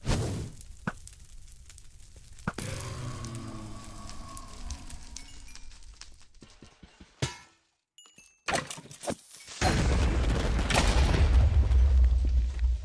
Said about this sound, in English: A larger than usual creeper. Bigger explosion than usual